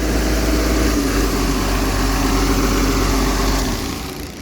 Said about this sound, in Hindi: बार बार इंजन के आरपीएम टूट रहे हैं